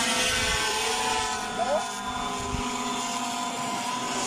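A fishing drone hovers over Orewa Beach, New Zealand, its propellers giving a continuous high whine with a steady tonal hum, heard under wind and someone talking nearby.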